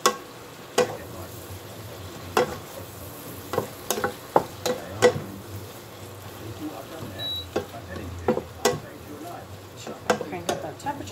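Onions caramelizing in a hot pan give a soft continuous sizzle, broken by repeated sharp clinks and scrapes of a utensil stirring against the pan.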